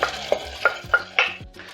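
Tomatoes are stirred into a pot of reduced wine, giving a series of short sizzling hisses and scraping stirs in a steady rhythm, close up with no talking.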